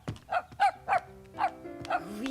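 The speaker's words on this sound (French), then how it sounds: "Il aboie, grand-maman." Small cartoon dog barking, five quick, bright yaps in an even rhythm, close and clear over a soft musical background.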